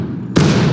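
Musket volley fire in the War of Rights video game: a sudden loud broadband burst of massed shots that holds steady as a sustained crackling roar through the rest of the moment.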